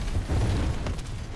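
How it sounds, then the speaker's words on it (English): Ship explosion in the Modern Warfare 2 Campaign Remastered video game: a heavy, sustained low rumbling boom that roars steadily for the whole moment, with no voices over it. "because the ship explosion is not just a concussion effect, but an actual animation"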